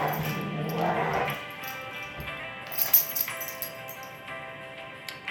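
Dogs in the video game The Letter give short barks and yips over a bed of soft, sustained tones, with a few louder bursts toward the middle.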